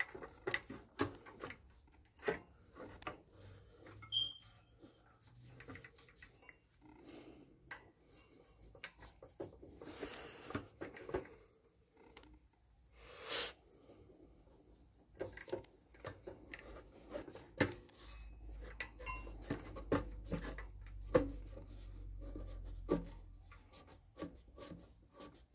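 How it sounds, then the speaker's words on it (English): A flathead screwdriver scrapes off old excess material in repeated short rasping strokes with pauses in between, close and fairly quiet, with no talk. "you just scrape it off with like a flathead screwdriver or something"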